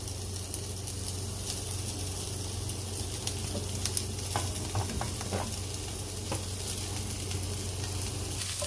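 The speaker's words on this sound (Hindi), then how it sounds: "अब इन सब चीज़ों को हम अपने फ्राई पैन में ऐड कर देंगे" Chopped cabbage, carrot, capsicum and onion fry in a pan with a steady, dense sizzle, broken by occasional scraping clicks as they are stirred, close and continuous with no talking.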